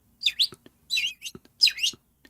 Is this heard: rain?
no